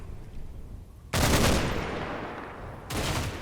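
Suppressive gunfire in Combat Mission: Battle for Normandy, two loud sustained bursts of roaring fire, the first long and fading, the second shorter, over a low rumbling background.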